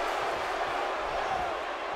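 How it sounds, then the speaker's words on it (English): A roaring arena crowd in WWE 2K17 fills the air with a dense, steady wash of chanting and cheering from a Philadelphia audience at a Battleground event, continuous and fairly loud. "Listen to this crowd. They want to enter Suplex City once again. Chants echoing here in Philadelphia."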